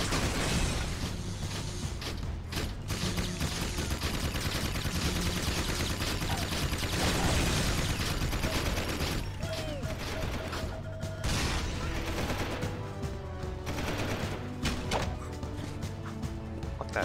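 Dense, continuous gunfire from guards and a turret in the Jak 2 video game, with rapid shots, mechanical clanks and impacts layered over game music and effects.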